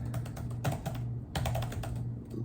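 Fingers type on the keyboard of an HP Victus laptop, producing a quick, close run of soft key clicks with a short pause midway, then more clicks. No one talks.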